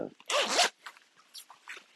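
A zipper on a Louis Vuitton scarf is drawn once in a loud, rasping pull of about half a second, followed by softer rustling and handling of the fabric.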